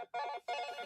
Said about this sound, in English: My phone is making noise.